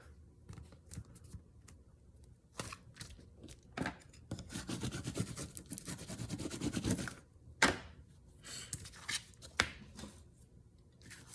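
Scissors snip through paper and card while trimming junk journal ephemera and edging for a flip flap envelope holder, giving quiet irregular clips and rustles with short pauses between cuts.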